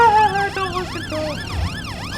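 Police car siren in GTA's Blaine County, a loud, close wailing sweep that rises and falls in quick repeated cycles over the hum of the game's engine noise, with no talk.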